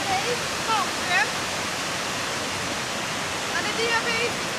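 Waterfall at Ättestupan, also called Brudslöjan, on the diabase mountain Halleberg in Sweden, pours as a steady, broad roar of falling water, with faint birdsong chirping above it throughout.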